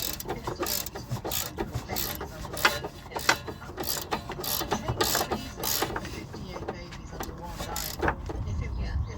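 A ratchet tightens a 19 mm bolt on a Nissan Qashqai anti-roll bar while a 17 mm spanner holds it, giving rapid repeated clicking bursts close up over a low background.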